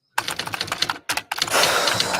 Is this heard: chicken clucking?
no